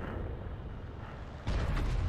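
An SPG artillery shell striking a heavy tank in World of Tanks, a deep rumbling boom that swells abruptly out of a low background roar, loud and close, with no voices.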